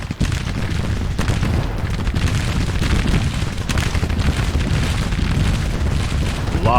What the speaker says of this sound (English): Artillery's all firing.